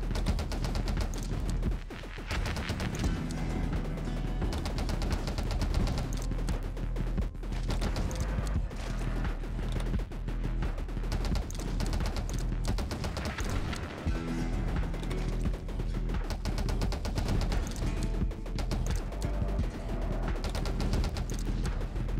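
Dense, continuous gunfire and explosive crashes from the game 20 Minutes Till Dawn, with a revolver build, layered over loud game music at a steady, busy level with no talk.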